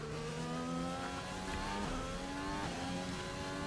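An F1 car in F1 2020 laps the Hungarian Grand Prix circuit, its high-pitched engine screaming close and loud as revs climb and shift through gears, with no talking.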